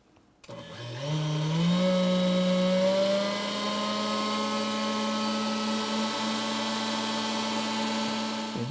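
An electric mixer whips egg whites into firm peaks for a chocolate soufflé, its motor whirring up in pitch after a brief start and then holding a steady, loud, close hum until it cuts off at the end.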